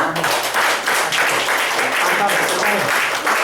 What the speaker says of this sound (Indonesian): Kita kasih applause dulu.